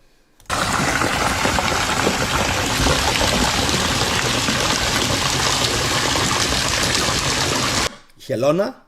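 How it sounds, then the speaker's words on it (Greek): Water spouts without pause from the mouths of an ornate turtle fountain, a loud, dense rush that holds for about seven seconds. It then cuts off abruptly, followed by a short voice-like burst. "Τα στόματα, τα βλέπετε που πετάνε νερό?"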